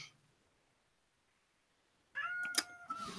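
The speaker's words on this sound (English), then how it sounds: "Oh, and there goes my cat." A cat meows once, close and fairly loud, a drawn-out wavering cry after a couple of seconds of near silence.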